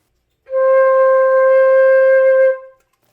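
A single sustained flute note C held steady for about two seconds, clear and breathy, with nothing else around it.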